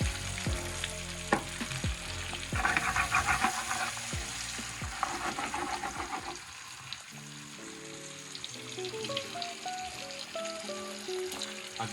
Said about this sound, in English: So in this pan, I've just melted down some butter. I'm just going to wilt some spinach